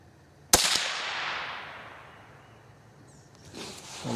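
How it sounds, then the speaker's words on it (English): Single sharp crack of a .22 rifle firing a CCI Stinger hyper velocity round outdoors, followed by a long fading decay and quiet, then faint rustling noise. "This is the first group I shot with the CCI Stinger."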